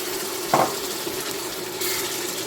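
Crushed condiments drop into a hot pot with a brief burst of sizzling, then a steady low frying hiss continues as they are stirred, close and moderately loud with no talk.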